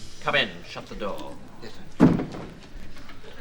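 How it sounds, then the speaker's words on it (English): A door swings shut on a comedy sketch set, one dull thud about two-thirds of the way through, set against murmuring voices and room noise. "Come in, shut the door."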